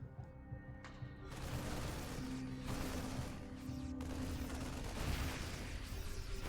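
Siege tanks fire repeatedly in a StarCraft II battle, heavy booming shots and crackling gunfire building into a dense, loud barrage after a quiet opening moment, with no talking.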